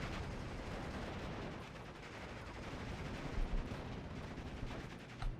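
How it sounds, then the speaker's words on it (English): A World War II aircraft strafing in a video game battle, with German planes present: a faint, steady rattle of distant gunfire with a few slightly louder thumps near the end, heard alone without talk. "He's going for a second gun run"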